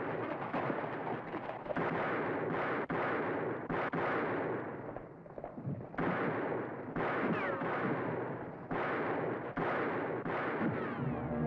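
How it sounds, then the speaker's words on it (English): Heavy gunfire in a Western shootout crackles and booms in dense, overlapping volleys of shots that keep going for over ten seconds, loud and continuous with no voices. "Which way you shooting, Jason?"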